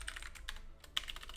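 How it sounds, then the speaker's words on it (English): Keys tapped on a computer keyboard in a quick irregular patter, close and fairly quiet over a low background hum, with a brief pause midway before the typing resumes. "So I'm going to start typing some stuff."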